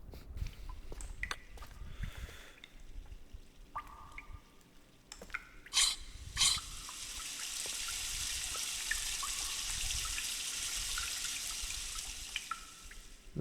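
Water trickling and dripping in the Myst game, with scattered close drips and splashes that give way to a steady, rushing flow of running water.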